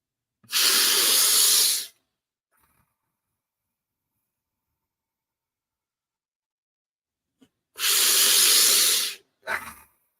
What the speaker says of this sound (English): Breathing in and out